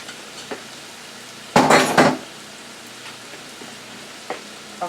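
Egg noodles and vegetables dropped into a pot for a Chinese-style chicken mushroom noodle dish, one brief clattering, sizzling burst over a steady background hiss, with faint small knocks before and after.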